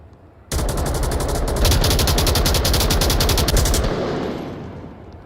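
Automatic gunfire in the VR shooter Onward during a competitive VRML match, a dense sustained burst of rapid shots lasting about three seconds, loud and close, then fading out.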